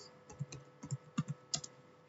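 Quiet keystrokes on a computer keyboard while a command is typed to configure a network switch: about half a dozen soft, close taps in a quick, uneven burst.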